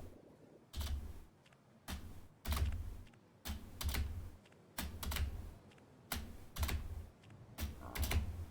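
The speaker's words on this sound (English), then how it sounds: "Every one of these spacebar presses has to be super deliberate." Spacebar on a computer keyboard tapped during a game called Frog Space: about nine separate, deliberate presses, each a sharp, close clack with a brief gap between, heard alone with no talk.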